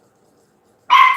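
Puppies bark in a sudden single burst, loud and close, after near silence.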